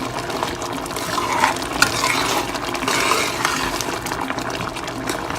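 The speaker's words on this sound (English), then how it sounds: "take the back of my spoon and kind of mash some of my red beans up" A spoon works through red beans in a pot of Caribbean red bean stew, making steady wet squelching, stirring and mashing sounds with a soft liquid bubble underneath, close and continuous.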